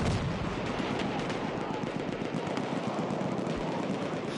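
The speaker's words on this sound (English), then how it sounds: "He loves his dynamite. And we like seeing it explode." Dynamite blasts in a multiplayer war video game, a dense continuous roar of gunfire and explosions packed together with no pauses, loud and sustained.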